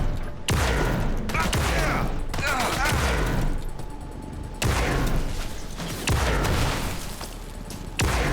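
Gunfire in the Marvel Rivals game, loud dense bursts of rapid shots and booming impacts in repeated volleys with brief gaps, with voices partly under the noise.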